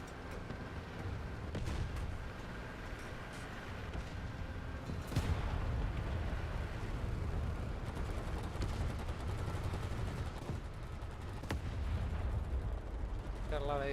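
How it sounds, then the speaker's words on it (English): Tank in War Thunder firing high explosive rounds, a few sharp booming shots spaced seconds apart over constant engine and battlefield rumble, with speech-like sound mixed in. "Gotta keep firing these high explosive rounds."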